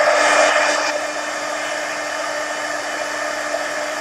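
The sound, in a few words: dryer drying an art journal page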